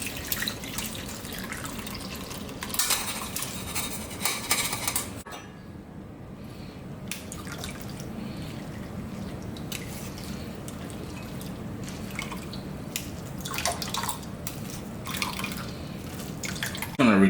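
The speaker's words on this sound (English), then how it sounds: "I'm going to strain this, and I'm going to really press it down when I'm straining it, because I want to get all of that juice out of there" Sorrel juice drips and trickles steadily as soaked sorrel petals are strained and pressed down for sorrel kumquat jam, a continuous close wet patter with a brief quieter stretch partway through.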